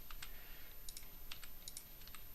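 Close, crisp computer keyboard and mouse clicks during 3D modeling work, with keys like G struck in short irregular bursts over a faint steady hiss, no talking.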